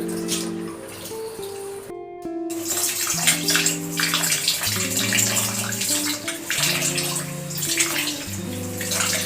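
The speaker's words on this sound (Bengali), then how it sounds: "দেখতেই পাচ্ছ মা কিন্তু চালটা ভালো করে বারবার করে ধুয়ে নিচ্ছে।" Rice being washed over and over in water, with continuous splashing and running water, close and fairly loud, and a steady musical tone underneath.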